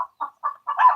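A chicken clucks four quick times close by, short separate calls in a steady rhythm, the last one a little longer and fuller.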